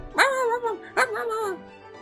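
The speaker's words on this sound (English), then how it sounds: "Pugsley barks madly." Pugsley the dog from the game Choices gives two quick, emphatic barks in succession, close and loud, with a tonal, slightly whiny edge.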